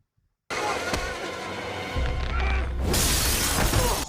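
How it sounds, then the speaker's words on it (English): Window glass shattering as a woman is thrown through it in a dramatic scene, a sudden loud crash that bursts in and keeps rumbling and scattering debris, swelling into a bright, harsh burst near the end. "Oh my God, he threw her out a window."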